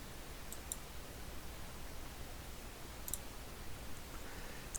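Sparse mouse button clicks, three faint taps spread apart over a steady low hum, quiet and close, with no one speaking.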